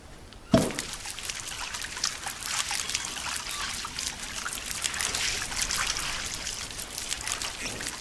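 Water trickling and splashing while washing off in the survival game Green Hell, a thud at the start followed by a continuous close pouring, dribbling sound.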